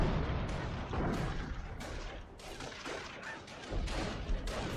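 Artillery shells crash down around an anti-tank gun in a World War II combat game, a dense run of booms and gunfire blasts rolling over one another through the whole stretch.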